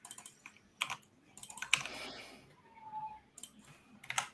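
Bursts of quiet typing clatter on a computer keyboard, with irregular clicks separated by short pauses.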